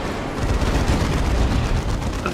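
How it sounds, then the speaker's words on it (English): A grenade explosion in a 1v1 Clan War Cup video game match bursts into a dense, sustained roar of blast and rumble that fills the whole moment, loud and close with no voices. "Boom! Nice grenade though."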